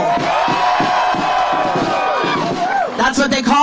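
Rally crowd at a SAG-AFTRA solidarity march cheering and shouting loudly and continuously, with a few sharper bursts of yelling toward the end.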